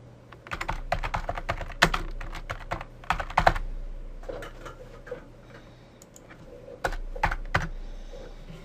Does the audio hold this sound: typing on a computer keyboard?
yes